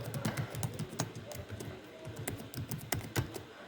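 Computer keyboard typing during a typing test, a steady stream of quick, close key clicks in an irregular rhythm with no voices.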